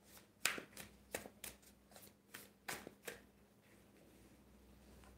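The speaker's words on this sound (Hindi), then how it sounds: "एक मिनट, मैं पहले कार्ड्स निकाल लूँ" Tarot cards are drawn from a deck in a quick run of about eight crisp flicks and snaps, close and fairly soft. A quiet stretch follows, with no talking.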